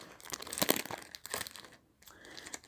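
Close, crisp crinkling and tearing of a small gift bag tied with a bow as it is opened, in uneven bursts with a brief pause before more rustling resumes.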